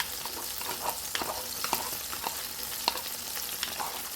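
Garlic fries in butter in a pan, giving a steady close sizzle with scattered crackles and pops, alone without talk.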